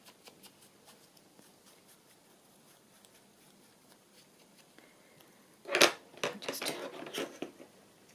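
Scissors snip through a narrow strip of paper, a quick cluster of crisp cuts close by, loud against near silence and following a long quiet stretch with faint rustles.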